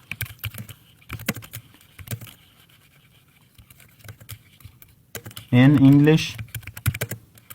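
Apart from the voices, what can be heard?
typing on a computer keyboard in MS Word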